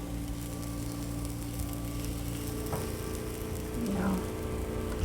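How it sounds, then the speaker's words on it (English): A sourdough pizza crust cooks in a very hot pan with a steady, dense sizzle that crackles continuously like light rain throughout, with no talk over it. "You hear it cooking."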